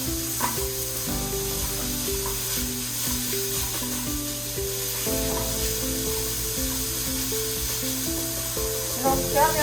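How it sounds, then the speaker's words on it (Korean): Meat stir-frying over high heat in a Korean cooking class, a steady loud sizzle with clattering and scraping of a utensil through the pan, continuous throughout. "센 불에 고기를 먼저 볶아주세요."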